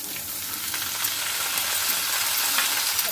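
Gongura leaves and green chillies fry hard in hot oil, giving a loud, steady, dense sizzle that continues without a break.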